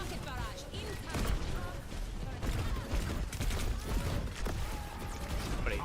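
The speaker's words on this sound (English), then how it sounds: "Rocket barrage incoming." Overwatch rocket barrage, a dense continuous roar of rapid explosions and mechanical rattling with creaks, loud and sustained throughout.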